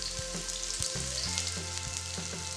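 Sliced shallots frying in about 250 ml of oil over medium heat, a steady close sizzle with occasional crackles and soft stirring knocks, no voices.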